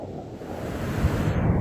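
Waves washing ashore at Punta Negra on the Río de la Plata, with gusty wind buffeting the microphone in a steady, loud roar.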